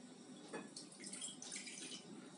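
Water poured into a mixing bowl while making croissant dough, a faint, steady splashing trickle with brighter splashes as it lands, close but quiet.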